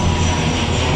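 Steady broadband roar of an airplane passing overhead, a constant engine drone with low tonal hum, moderately loud and unbroken, no voices.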